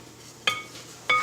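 A spoon clinks against a metal pot while dried herbs are stirred into rice, two sharp metallic chinks about half a second apart over a soft scraping background.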